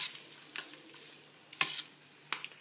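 Sambar rice is stirred with salt in a pan, giving soft scraping strokes with a light sizzle. Three sharper scrapes stand out over a steady low hiss.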